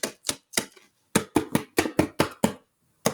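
Bare hands drumming on a homemade percussion instrument: a dozen or so sharp, close taps, a quick group of three, a short pause, then a faster run of six evenly spaced hits and one final strike.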